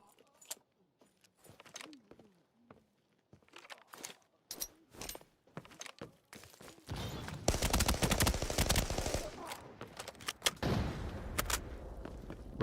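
Rapid gunfire sprays in a shooter video game, sparse sharp shots at first, then dense sustained automatic bursts that grow loud and continuous before tapering into scattered shots.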